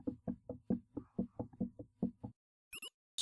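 Rapid knocking on a door, about a dozen firm, close raps in an even rhythm, followed by silence and a brief high squeak.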